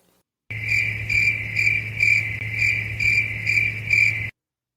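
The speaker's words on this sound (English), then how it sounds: "Insert awkward silence cricket sound effect." Steady cricket chirping used as an awkward-silence sound effect, a continuous high trill pulsing in regular bursts over a low hum, close and clear with no talking.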